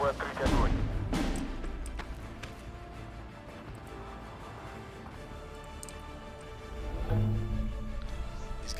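Scattered gunfire and artillery in the World War II strategy game Steel Division II, with a couple of sharp distant shots early on and a faint crackle of battle noise through the rest.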